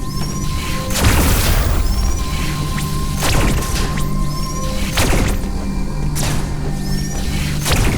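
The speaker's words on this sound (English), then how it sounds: "Causes charge beam shot to explode on impact." Charge beam shots from the Diffusion Beam exploding on impact in Metroid Dread, a series of loud booming blasts about once a second over a steady humming game backdrop, each followed by a short rising chirp.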